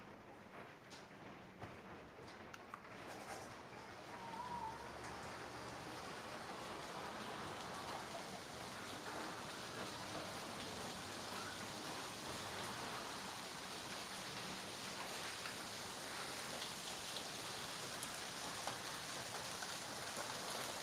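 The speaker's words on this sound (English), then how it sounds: "we are getting pea-sized hail" Pea-sized hail falls outside as a soft, steady, distant hiss and patter that builds slightly after the first few seconds and continues evenly, with no one talking.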